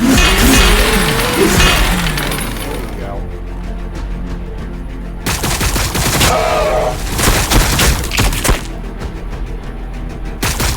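Gunfire in the Warhammer 40K Battlesector video game, with loud volleys of rapid shots and clattering impacts in bursts separated by brief lulls, while voices call out over the combat.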